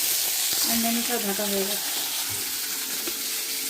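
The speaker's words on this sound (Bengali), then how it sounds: "পায়েসের জন্য এই যে গোবিন্দভোগ চাল একটু আমি ঘি দিয়ে ফ্রাই করে নিচ্ছি।" Gobindobhog rice frying in ghee, a constant sizzle in the pan while a person talks briefly over it.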